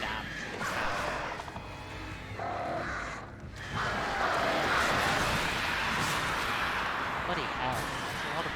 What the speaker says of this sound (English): Bloody hell, there's a lot of birds.